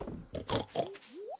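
Pig from Stardew Valley snorting and grunting in a quick burst of several short oinks, followed by a rising squeal, close and fairly loud.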